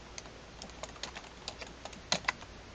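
Fingers tap a computer keyboard in a quick, irregular run of faint clicks, a couple of keystrokes landing harder near the end, with no talk.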